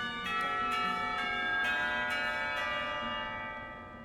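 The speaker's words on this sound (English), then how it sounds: "The lunch bell rings, signaling a return downstairs." A school lunch bell in the visual novel Katawa Shoujo rings steadily for about four seconds, a sustained metallic chime with repeated strikes over a long ringing tone, loud and alone.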